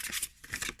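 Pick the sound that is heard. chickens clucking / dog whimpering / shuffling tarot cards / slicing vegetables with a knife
shuffling tarot cards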